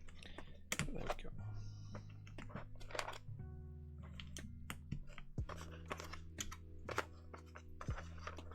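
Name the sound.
typing on mechanical keyboard keys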